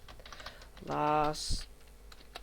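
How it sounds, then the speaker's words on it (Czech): Computer keyboard typing into a search box, a few quiet clicks spread across the clip, briefly covered by someone speaking in the middle. "Do Google napíšeme"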